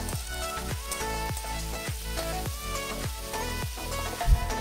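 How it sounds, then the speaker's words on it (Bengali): Chopped capsicum fries in hot oil with a steady close sizzle, while a spatula stirs and scrapes the pan in a quick repeated rhythm and no one talks. "ক্যাপসিকাম কুচুগুলো ওই তেলের মধ্যেই ছেড়ে দিলাম"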